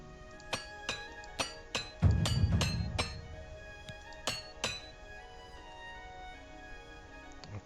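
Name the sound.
repair hammer clinking while repairing gear, Oblivion Remastered video game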